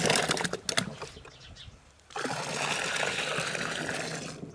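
Water poured and stirred into jaggery in a container while preparing an organic amla fertilizer, a splashy, gurgling stream with scattered knocks, a short quiet pause, then steady pouring and sloshing close by.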